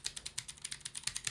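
Fast, steady typing on a small mechanical keyboard with PBT keycaps and clicky Cherry MX Blue switches, each keystroke a crisp, close click in an even rapid rhythm, with no voice.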